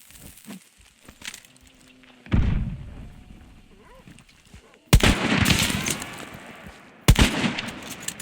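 Gunfire in the video game Hunt: Showdown, with sharp loud shots cracking out at intervals and each followed by a rumbling echoing tail, between quieter stretches of ambient rustle.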